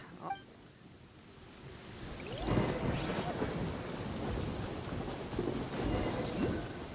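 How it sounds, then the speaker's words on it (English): Thunder from a lightning storm in Genshin Impact rolls through heavy steady rain, with low rumbling swells rising and fading over the whole stretch and no talk. "Uh-oh! Lightning storm!"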